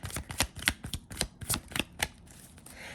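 Oracle cards are being shuffled up close, giving a quick run of crisp riffling snaps in an uneven rhythm that slows and fades near the end.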